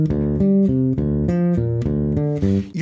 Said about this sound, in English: That's highlighting that open D string.